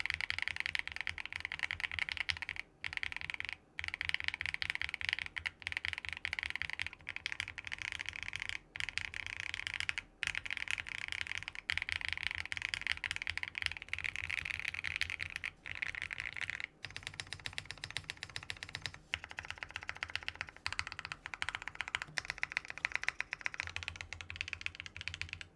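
Alpha keys typed steadily on a $225 Tiger 80 mechanical keyboard, a dense run of crisp, close clacks with brief pauses between bursts, alone with no talking.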